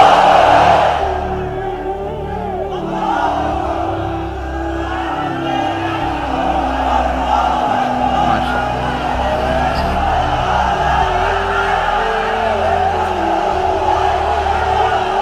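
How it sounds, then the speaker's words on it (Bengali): A sermon audience responds in unison, a massed roar of voices chanting takbir that swells at the start and holds as a broad, sustained crowd sound. "তাকবীর পড়ুন, লিল্লাহি তাকবীর।"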